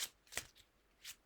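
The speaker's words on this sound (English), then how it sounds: "it's a really lovely deck to shuffle" A tarot deck with gold-edged cards is shuffled by hand in a few quick, crisp riffling bursts, close and soft, with brief pauses between.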